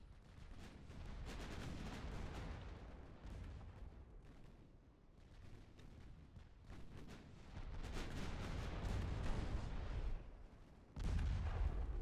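Heavy naval gunfire from warships in the video game Ultimate Admiral Dreadnoughts, a dense rumbling barrage of booming salvos with layered blasts that grow louder and more continuous toward the end.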